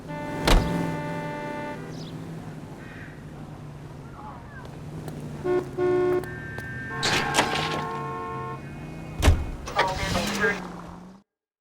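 A car driven in the video game L.A. Noire, with a steady engine drone and road rumble under tonal game music, brief mechanical whirs and knocks, a sharp thump and a voice partway through.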